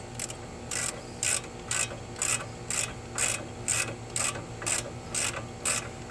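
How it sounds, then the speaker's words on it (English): A ratchet wrench loosening the lower bracket bolt at the steering knuckle of a 2011-2019 Ford Explorer with a 3.5L engine, clicking in about a dozen short, evenly spaced bursts, close and clear over a low steady hum. "Go ahead and get the one on the bottom loosened up here."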